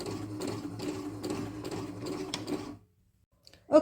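A sewing machine runs a straight stitch through cushion fabric, a steady close mechanical whir with a rapid needle rhythm for nearly three seconds. It then stops, leaving quiet and a brief click at the end.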